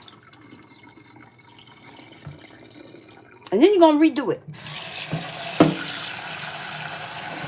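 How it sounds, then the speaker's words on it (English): Water swirled and poured out of a pot of corn grits being rinsed, a brief splashing pour rising over a second or so, then running tap water hissing steadily, with a voice talking before it. "you're gonna kind of just swirl it around, and you're going to pour the water out"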